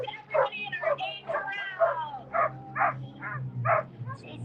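Dog yips and barks several times in a rhythmic series at a Denver Colfax 5K race start corral, mixed with crowd voices and a low drone of people talking nearby.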